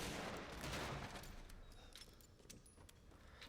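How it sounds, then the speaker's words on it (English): A magnum fired at a barrier in Resident Evil Village: a single loud, close blast at the start that decays over a couple of seconds, with small metallic rattles and clinks trailing after. "Get your magnum ready because we're going to need to shoot a little barrier thing"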